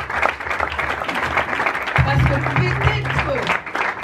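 A church congregation bursts into applause and cheering at a gathering, a dense, sustained clapping that swells midway, mixed with voices.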